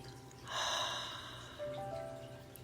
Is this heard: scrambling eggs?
no